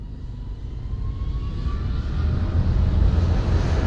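An airplane engine gives a low, steady rumble that swells slowly as a faint thin whine drifts across it, with a hint of wind and no voices, heard as a horror sound effect for a passenger boarding his plane.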